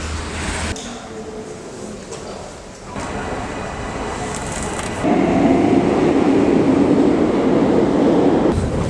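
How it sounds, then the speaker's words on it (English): An underground metro train rumbles along the track, a dense roar that grows louder and deeper midway as the carriage speeds up, with a brief lull before. "I will take the metro for a couple of stations"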